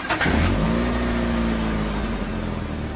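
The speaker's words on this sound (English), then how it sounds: "Okay, how do I turn on the engine?" A car engine cranks and catches with a short burst, then settles into a steady running rev with a low droning hum for a few seconds.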